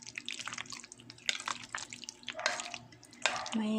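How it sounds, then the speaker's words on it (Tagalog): Macaroni chicken salad is stirred in a bowl, wet squelching and scraping with a few sharper clinks of the utensil against the bowl, close and moderately quiet. "So, halo-halo lang. Hanggang sa mag-fully mix."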